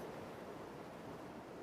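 Gentle ocean waves wash onto a quiet beach as a soft, steady surf hiss, even and continuous throughout, with no voices or other sounds.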